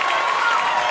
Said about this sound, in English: And the crowd goes wild as the set goes to